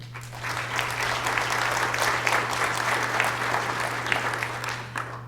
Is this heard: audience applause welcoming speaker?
yes